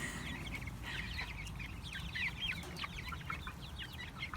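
Heritage chickens cluck and squawk in quick, irregular bursts as they begin to scuffle, fairly close, over a steady low outdoor rumble with no talking.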